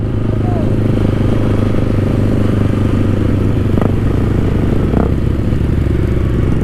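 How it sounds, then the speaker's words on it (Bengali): A motorcycle engine roars loud and close during a long wheelie on a group ride, a continuous heavy drone with wind noise and faint voices mixed in. "ও ভাই রাজ কত লং লং হুইলি মারছে ভাই"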